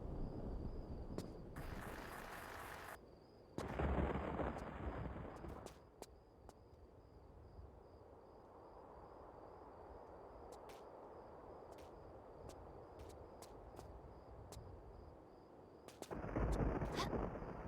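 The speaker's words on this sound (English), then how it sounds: "Shotgun versus boulder." Shotgun blasts aimed at a boulder in Tomb Raider: The Last Revelation, a few loud bursts separated by quiet stretches of faint ambient game hum, with short sharp clicks scattered between.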